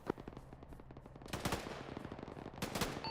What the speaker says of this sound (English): Yeah, I saw your machine gun go at it.